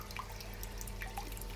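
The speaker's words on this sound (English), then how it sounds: "Still only drips." Water drips and splashes into a home-brewing underback being filled, with soft irregular drops over a steady low hum, fairly close and alone.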